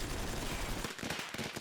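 Fireworks going off in an anime episode, a dense rumbling burst giving way to several sharp cracking pops, loud and close, with no voices.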